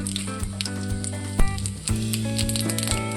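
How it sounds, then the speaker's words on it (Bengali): Bay leaves and cumin seeds sizzle steadily in hot oil in a wok, the tempering for a Bengali lote (Bombay duck) fish curry, with a faint tonal hum underneath. "এবার ফোড়নে দেবো তেজপাতা আর জিরে।"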